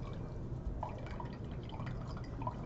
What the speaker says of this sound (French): puis on rince avec de l'eau distillée